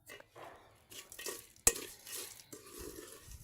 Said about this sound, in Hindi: आय हाय, अब मेरे को हिलाना पड़ेगा इसको।